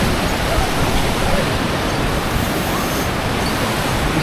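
A mountain river in Kyrgyzstan rushing beneath a swinging footbridge, a loud, steady broadband roar of churning water that fills the whole stretch without pause.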